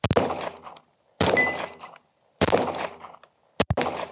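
Four sharp gunshots from a ported handgun, fired at a small steel target at roughly one-second intervals, each crack followed by a brief ringing ping of hit steel and a short decay.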